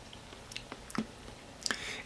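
Someone takes a few soft, close bites and chews a piece of cooked akebia, the chocolate vine fruit, eaten plain without seasoning. The mouth makes quiet, moist squishes and clicks in an uneven rhythm with no talking.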